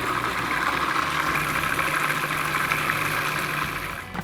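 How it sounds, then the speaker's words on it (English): A blender steadily whirs and purées a lemon square base with fresh lemon juice, its loud continuous motor hum running unbroken for a few seconds before tapering slightly at the end, no talking. "Get the base pureeing again."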